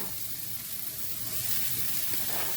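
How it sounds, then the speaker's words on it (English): Chopped onions sizzle and crackle in a dry pan with no oil, a soft continuous hiss at moderate distance that swells slightly toward the end, without any speech. "I'm going to put these onions in"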